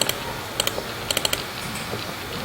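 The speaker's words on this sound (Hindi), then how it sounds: "Ctrl+S के साथ इसको सेव किया" Computer keyboard keys clicking in two short bursts of taps, while saving an HTML file for a div and span lesson; crisp, close and fairly quiet, with no talking.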